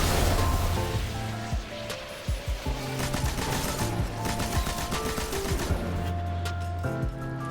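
Rapid bursts of explosions and blasts from a Solar Titan's charged melee attacks in Destiny 2, loud and dense, crackling in a continuous barrage with no talking.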